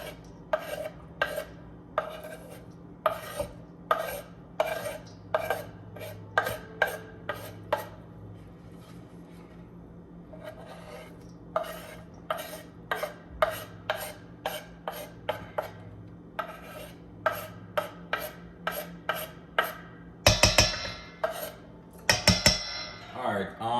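Scallion, onion, thyme and Scotch bonnet pepper being tipped onto pork in a bowl, heard as a run of sharp clinks and scrapes of utensils against dishware, steady and close, with light rubbing in between.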